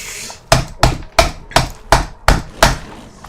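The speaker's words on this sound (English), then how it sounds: "The hammering does make it work better." A computer mouse's right-click button struck repeatedly, seven sharp, evenly spaced knocks about a third of a second apart, loud and close with no voices.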